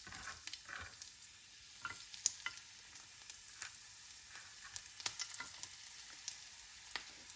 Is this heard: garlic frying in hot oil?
yes